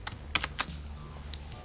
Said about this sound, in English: So we have what we call the karate chop, which is a keyboard stroke, Control, Shift, and A.